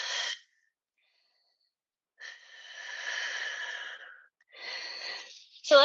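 Heavy breaths during an exercise session come in a few separate bursts with silence between them, close and fairly loud.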